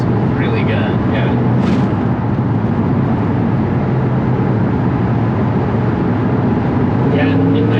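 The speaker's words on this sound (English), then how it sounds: "For like a V8, right? Like an American V8 in this thing." Inside a 1997 Dodge van fitted with an American V8, a steady low engine drone hums throughout, continuous under frequent conversation between occupants.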